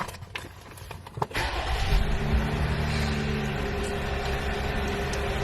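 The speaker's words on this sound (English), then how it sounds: "let me start this car to get this heat going" A car engine cranks with a few sharp clicks and a short churn, then catches and settles into a steady, close idle hum.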